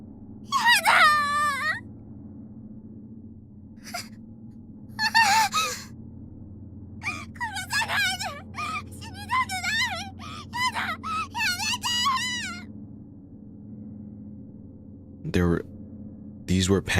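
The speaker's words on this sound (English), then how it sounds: "These were panicked, primal screams of a person's last moments on Earth." Panicked, primal screams from the horror video game Corpse Party: Book of Shadows, a series of anguished wails and gasps in repeated bursts over a steady low background hum.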